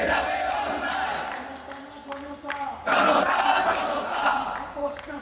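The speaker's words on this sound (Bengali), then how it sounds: "এ সময় তাদের ইশরাকের পক্ষে নানা রকম স্লোগান দিতে দেখা যায়" Protesters outside Dhaka's city corporation building chant slogans in unison, a loud crowd of voices rising and falling in rhythmic waves that swell stronger midway.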